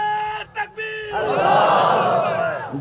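Crowd at a Khatm-e-Nubuwwat conference roars back in unison after a leader shouts a slogan, a loud swelling chant that follows a short amplified voice and holds strong to the end.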